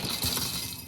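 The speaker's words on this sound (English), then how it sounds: "I'm simply going to alternate pouring the cereal into the jar." Dry cereal poured through a funnel into a jar, a dense, continuous rattling clatter of small pieces tumbling close up for about a second.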